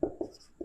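Marker or chalk strokes on a board during an engineering lecture, three short scratchy taps spaced at a steady pace, close and fairly quiet, with no talking.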